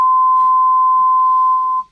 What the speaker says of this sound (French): c'est le fameux bip de la censure